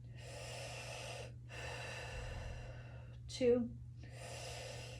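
Slow, steady breaths drawn in and out through the nose during a fascia-focused exercise class, each long airy breath separated by short pauses, over a low constant hum, with a voice counting and a brief sharp vocal sound in the middle.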